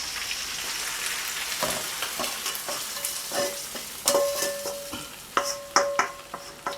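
Eggplants are tipped into a sizzling masala for baghar baingan and stirred, a steady frying hiss broken by spoon scrapes and clacks that grow sharper toward the end, no talking.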